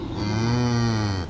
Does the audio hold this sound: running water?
no